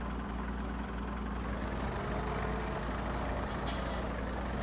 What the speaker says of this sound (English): Start the motor guys.